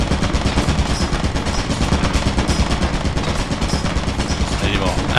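A turret in the video game Lethal Company fires a dense, continuous stream of rapid shots for several seconds, loud and close, with a French-speaking player faintly heard under the gunfire.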